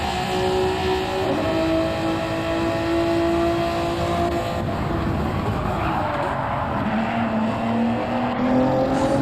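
A race car snaps loose on a curb during a CTC Gr.A race: a loud steady engine note breaks off, then a wavering roar and scrubbing tire noise follow as the car gets unsettled, with faint commentary underneath.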